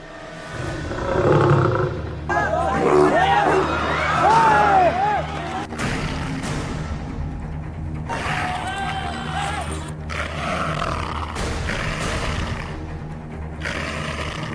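A leopard roars in repeated loud, rasping bursts, mixed with other harsh animal calls and background noise, in a report about man-eating leopard attacks in Garhwa, Jharkhand.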